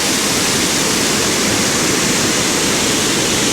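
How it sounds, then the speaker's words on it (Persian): Water gushes with great force from a dam's sediment flushing channel, a loud, dense, unbroken roar close by with no voices. "دورترین نقطه آبی که از کانال رسوبکش میپره"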